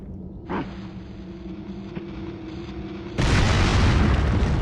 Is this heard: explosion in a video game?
yes